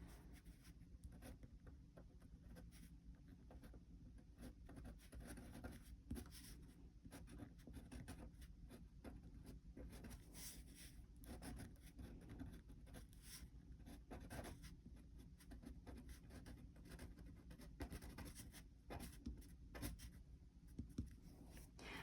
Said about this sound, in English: I'm using a fine Sharpie pen, a very affordable black permanent pen